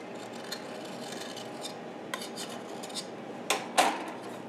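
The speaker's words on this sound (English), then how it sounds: "I just run a knife around here to make sure nothing is sticking on the edges" A metal knife scrapes around the edges of a pan holding a baked chocolate sponge cake, giving faint scattered rubbing and light clinks that end in two sharper metallic taps, no talking.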